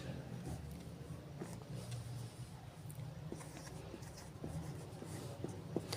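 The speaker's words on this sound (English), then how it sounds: "Now I will write its example here." A pen scratches across paper as someone writes an example by hand, faint close strokes and light taps scattered over a quiet room hum with no talking.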